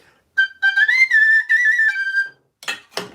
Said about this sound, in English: my tin whistle in C, G. It's far too high